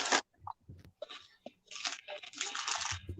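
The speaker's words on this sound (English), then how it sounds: "Trying to chew." Crunchy, wet chewing of food close to the mic, a few distinct bites and mouth sounds in quick bursts, with brief quiet gaps between them.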